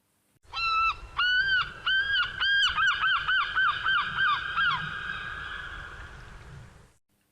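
A person imitates a seagull cry with a series of loud nasal honking calls, several drawn-out squawks followed by a quick run of shorter yelps that trail off into a fading tail.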